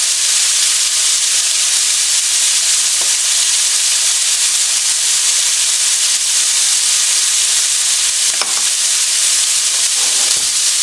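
Meat sizzles loudly and continuously in a pan with garlic, a steady close hiss of frying with a few faint clinks underneath.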